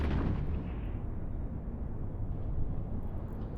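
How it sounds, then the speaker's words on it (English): A deep, sustained explosion rumble from a space battle in Eve Online, a low continuous roar that swells slightly and holds steady, with no speech over it. "Something just blew up."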